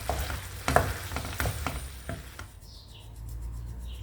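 Tagliatelle with bacon and asparagus tossed and stirred in a frying pan, close scraping and sizzling for a couple of seconds, then the stirring stops and only a faint hiss and a few light clicks remain.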